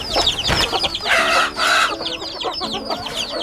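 Aseel chickens clucking alongside high, rapid peeping of baby chicks, a busy close mix of cheeps and short hen calls with a brief louder squawk, no voices.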